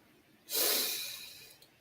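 A single long, forced exhale during a breathing exercise pushes out as a loud, breathy rush of air that slowly fades, alone against quiet room noise.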